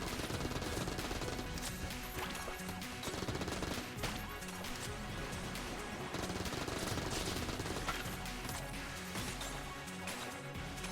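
Rapid video game gunfire from battery bullets, dense continuous bursts of shots and impacts layered with game sounds, steady and busy throughout.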